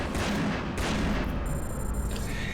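Gunfire in the game Hydrophobia Prophecy: a dense, continuous barrage of booming shots and rumbling blasts, loud and sustained throughout, with a thin ringing tone late on and no voices.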